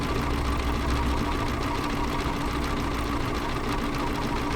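A sewing machine stitching decorative stitches on flat fabric with a circular sewing attachment, running as a steady, fast mechanical whir and rapid needle chatter, close and continuous throughout.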